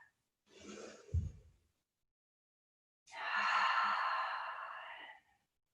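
Two deep breaths during a yoga session, heard close and alone: a sighing inhale that ends in a brief low puff, then a pause, then a long airy exhale that fades out.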